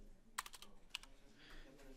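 Fairly quiet clicks of a computer keyboard: a handful of quick keystrokes in two short bursts, near the microphone, with no talking.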